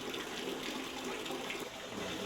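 Water pours steadily from a spout into a shallow stone pool at the Fallingwater house, a continuous splashing gush, close and alone.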